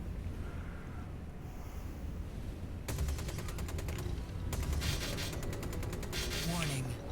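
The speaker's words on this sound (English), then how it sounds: "I'm shooting, I think, in the wrong place for the wrong weapon" Spaceship weapons fire in Star Citizen, rendered as two rapid bursts of evenly spaced shots over a steady engine-like drone, with the second burst more sustained.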